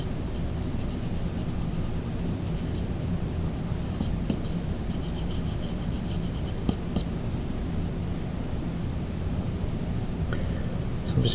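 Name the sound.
erasing pencil lines on a drawing of an eye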